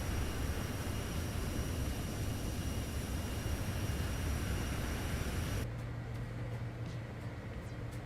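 A business jet's engines in Microsoft Flight Simulator 2024 make a steady broadband roar and whine that cuts sharply near the end to a quieter, lower hum.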